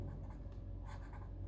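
A matrix problem is written out by hand, giving a faint, continuous scratching with small rhythmic strokes and no voice over it.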